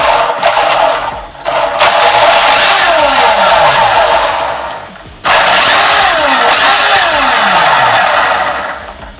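An electric Hyper 7 RC buggy propped on a box runs with its wheels spinning freely, a loud continuous high-pitched motor whine that rises and falls in two long surges with a brief dip between.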